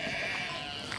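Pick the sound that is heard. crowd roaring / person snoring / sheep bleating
sheep bleating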